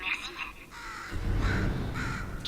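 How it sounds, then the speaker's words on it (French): In the Portal 2 video game, a bird caws a few times in short harsh bursts, mixed with a voice talking over a low rumble. "Pourriez-vous tuer cet oiseau?"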